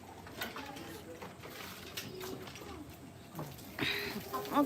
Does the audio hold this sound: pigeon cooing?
yes